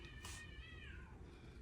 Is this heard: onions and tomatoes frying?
no